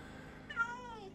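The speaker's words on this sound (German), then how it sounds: "Miau." A cat meowing in the video game Minecraft, one short faint meow rising out of a quiet hum of background game sound.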